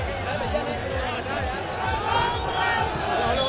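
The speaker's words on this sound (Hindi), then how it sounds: "भीड़ बहुत जबरदस्त है।" Dense crowd noise at Mulayam Singh Yadav's funeral procession: continuous overlapping voices, shouting and shuffling from a large throng, steady and close throughout.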